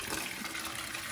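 Fluid from a 1986 IDI diesel truck radiator pours steadily into a bucket, a continuous close splashing gush with no break.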